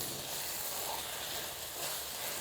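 Chicken mince frying in a pan, a steady, even sizzling hiss that stays constant and fairly quiet throughout, with no talking.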